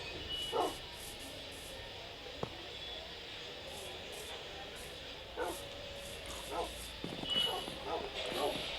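A dog barks and yips in a Minecraft world, with a few short, moderately loud bursts spread across a steady background.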